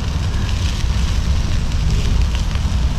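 A charcoal fire burns strongly under grilling meat, giving a dense, continuous roar and crackle close to the microphone, with no speech over it.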